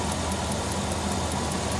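The 5.9 engine of a 2000 Dodge Ram 3500 van idles with a steady, rapid metallic ticking, about five taps per second, riding over a constant engine hum up close.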